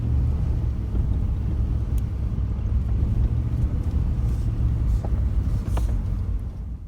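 Vehicle climbing a mountain road into the Caribou Mountains, a continuous low engine and road rumble with some wind buffeting on the microphone, steady and close throughout.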